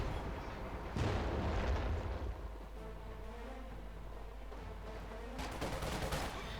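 An M8 Scott bombards positions in Company of Heroes 2, with one heavy artillery boom followed by rumbling blasts and a second volley of crackling impacts near the end, over constant battlefield noise.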